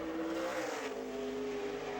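A NASCAR Nationwide Series race car at qualifying drones loudly and steadily close by, its engine note wavering as the driver feathers in and out of the throttle, with no voices over it.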